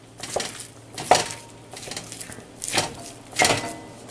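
Ground meat broken up with a utensil while browning over fairly high heat in a Dutch oven for chili, giving scattered scraping clinks and knocks against the pot over a soft background sizzle.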